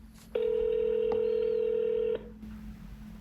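Phone call being placed to an AI voice agent, heard as a loud steady ringing tone held for about two seconds, starting and stopping abruptly over faint background hum.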